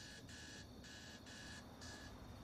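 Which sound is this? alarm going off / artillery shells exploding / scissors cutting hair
alarm going off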